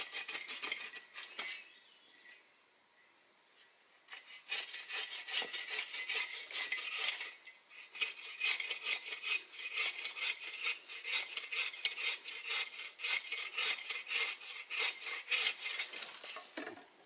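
Hand-sawing a freshly felled, unlimbed tree at a bushcraft camp: rapid rasping strokes, close and crisp, pausing briefly before resuming a steady back-and-forth rhythm to the end.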